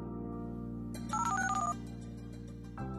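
An Android phone rings for an incoming call, a short electronic melody of bright tones over a steady hum, heard clearly with no talking.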